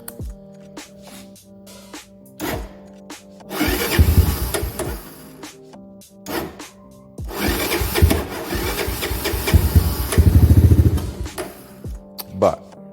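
A 1988 Big Red three-wheeler engine starts and runs rough and uneven in bursts, revving loud then dropping back between pauses, close by.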